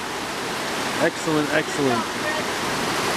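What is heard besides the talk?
water flowing while filtering with a Sawyer Squeeze filter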